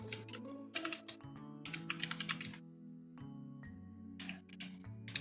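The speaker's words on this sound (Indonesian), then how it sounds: "Baik, saya ketikkan ifconfig." Someone types the ifconfig command into a server terminal on a computer keyboard, quick close key clicks in short bursts with brief pauses, over a steady electronic hum.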